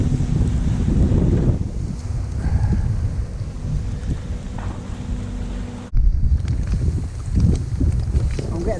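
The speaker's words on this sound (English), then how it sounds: "That wind's no good. Right in the kisser." Gusty wind buffets the microphone outdoors at a fishing spot, a loud continuous low roar with a brief drop near the six-second mark before it resumes.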